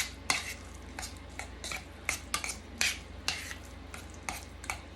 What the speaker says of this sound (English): now I'm just mashing them down with a spoon